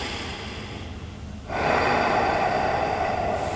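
A deep breath during a cooldown stretch after a Brazilian jiu-jitsu class. A soft inhale is followed by a long, loud, close exhale lasting a couple of seconds, with no talking.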